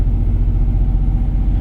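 A car engine rumbles steadily up close as the gas pedal is pressed, producing a low, even drone with no clear rise in pitch.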